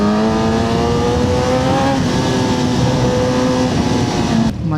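Kawasaki ZX-10R sportbike engine revving loudly up through the gears with a quick shifter, rising tones broken by short sharp cuts at each shift, close and continuous, ending abruptly.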